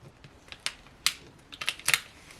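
Heat transfer vinyl being peeled away from its backing sheet, with short crackling tearing bursts at irregular moments, close and fairly quiet with no talking.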